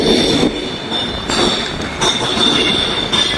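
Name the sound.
train at Edinburgh station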